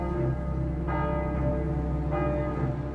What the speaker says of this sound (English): the bells of this church, Saint-Germain-l'Auxerrois, rang out